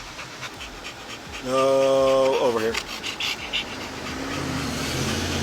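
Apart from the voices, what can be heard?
dog panting in a car seat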